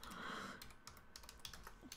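Rapid, uneven keystrokes clatter on a computer keyboard in a quiet room, a steady run of close, light clicks with no voices.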